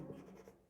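Quick scratchy strokes of writing on a board in a class 12 physics lecture on Ampère's circuital law, heard close and soft for less than a second.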